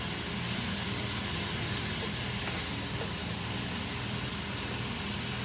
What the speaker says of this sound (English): So we're gonna let the sweet potatoes cook.